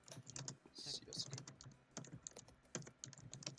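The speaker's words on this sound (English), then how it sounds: "I'm actually typing some random shit" Quiet, rapid clatter of typing on a computer keyboard, close and continuous with irregular keystroke bursts, under a faint voice.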